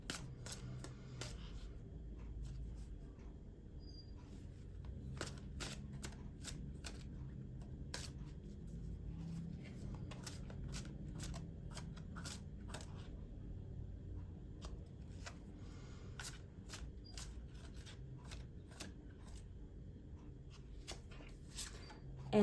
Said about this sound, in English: I'm going to pull one more as the advice card